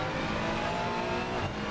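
Race car engine heard from onboard during a night race at the Nürburgring in Assetto Corsa Competizione, a loud, steady high-revving drone with layered harmonics, continuous throughout.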